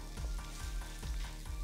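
Two steaks fry in a hot oiled pan, giving a dense, loud, close sizzle that holds steady throughout, pulsing with regular low thuds and no voices.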